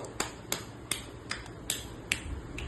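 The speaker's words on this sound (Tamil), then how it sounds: "கிளாப் பண்ணு." Sharp hand claps at a family birthday and wedding anniversary celebration, seven or eight distinct claps in a loose, uneven rhythm, fairly close and clear over a quiet background.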